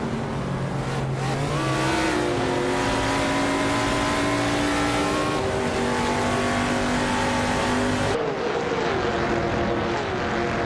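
Race cars in a racing video game speed past with sustained, loud, high-pitched engine whine and shifting revs. The pitch rises and falls as the cars battle, and there is no talk.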